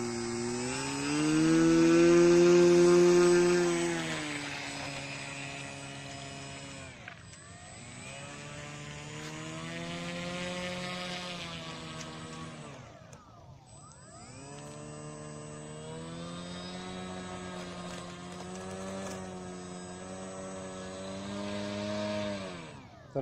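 A model airplane with a CC3D flight controller taxis on the ground, its small electric motor and propeller buzzing loudly and steadily. The pitch swells and dips several times as the throttle is raised and eased back.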